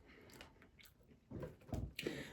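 Quiet, close chewing of smoky paprika potato chips, soft mouth crunches that grow into several louder, crisp bites toward the end.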